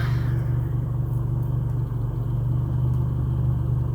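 Parked car idling with its engine running, a loud, steady low rumble with a constant hum that holds evenly throughout with no talking.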